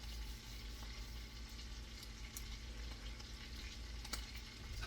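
Steak searing in butter in a hot pan: a constant, close crackling sizzle with scattered sharper pops and spits, and no voices.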